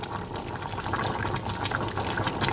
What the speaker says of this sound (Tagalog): binuhusan ko na ng suka